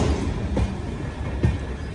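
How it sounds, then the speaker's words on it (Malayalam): WDP-4 diesel locomotive train passing near Jhansi, a loud close rumble of rolling wheels with a couple of sharp clanks over the steady roar. "Diesel locomotive."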